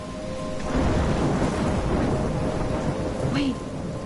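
Stormy weather in the video game Life is Strange: steady rain hiss with low rolling thunder throughout, a faint tonal hum underneath, and a brief rising whoosh near the end.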